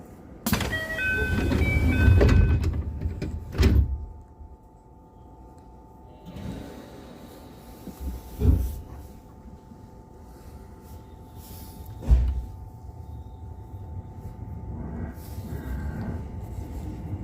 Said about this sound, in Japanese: ドアが閉まります。